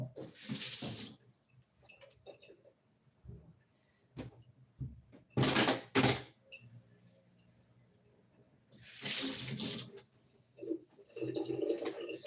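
Tap water running in a kitchen sink while celery is washed, coming in several loud bursts of splashing with quieter handling sounds between them.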